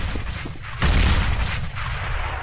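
Pistol gunfire in a CS:GO match on the Inferno map, with a few faint shots followed by one loud, sharp burst that rings out and then trails into a noisy, reverberant tail.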